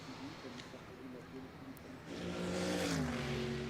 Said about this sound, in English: The sound of that engine. I will put my hand up and say I'm a fan of flat 6s.